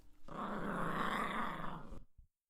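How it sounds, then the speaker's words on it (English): A dog named Tinkle lets out one soft, sustained growl lasting under two seconds, close and alone, ending in a brief rumble before silence. "A few minutes later, I heard a soft growl from Tinkle."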